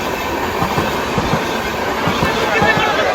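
A train rolls through Bamra railway station in Sambalpur, Odisha, with a loud, continuous rumble and rhythmic wheel clatter, plus faint squeals from the rails.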